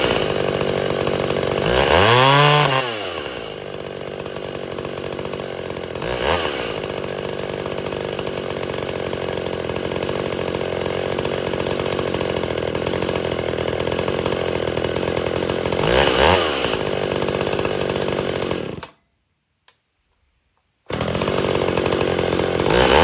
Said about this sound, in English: you hear it backfiring on the video because it's backfiring very bad